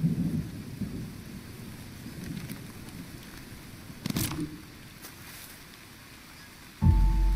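Steady rain falls with low rolling thunder in the rainforest survival game Green Hell, a constant wet hiss under a distant rumble, with a brief louder burst near the end.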